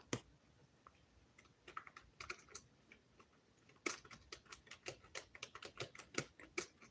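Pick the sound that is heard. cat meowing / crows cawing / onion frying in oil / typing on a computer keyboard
typing on a computer keyboard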